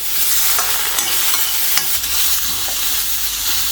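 Onion and tomato frying in a pan, a loud, dense, continuous sizzle with occasional soft stirring ticks layered on top.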